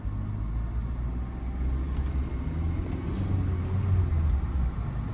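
Car engine rumbling steadily and close as a beginner driver in India speeds up along a narrow road and shifts from first into second gear, with a low continuous drone and no talk.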